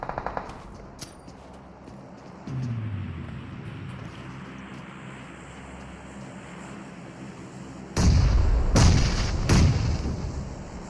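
In the shooter video game ALG'A QAREKEN' 2, a grenade blows up with a loud, booming burst after a stretch of low rumbling background, followed closely by further heavy blasts.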